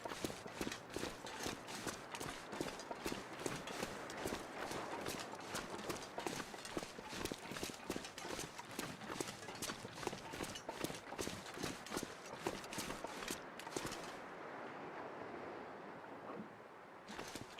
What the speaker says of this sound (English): I could have sworn I heard some footsteps.